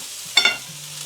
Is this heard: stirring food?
yes